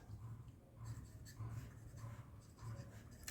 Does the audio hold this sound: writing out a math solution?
yes